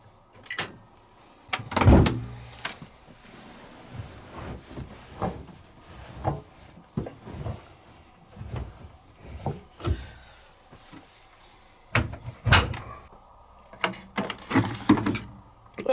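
The plastic detergent drawer of a Zanussi 6kg 1200-spin washing machine is opened and handled, giving a series of scattered knocks, slides and clunks at close range with quiet pauses between them.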